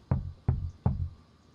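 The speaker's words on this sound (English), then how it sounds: "Who is kicking on the door?" Three heavy, evenly spaced thuds of someone kicking a door, loud and close, each with a booming low body and brief decay, with no voices.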